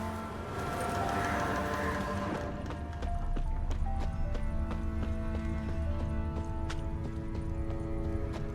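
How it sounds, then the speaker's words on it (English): Clip-clop of a merchant's horse-drawn wagon with heavy wheels in The Witcher 3, hooves thudding in a steady close rhythm over a low rumbling roll, with a horse whinny early on and game ambience underneath. "Heavy wheels. Merchant's wagon."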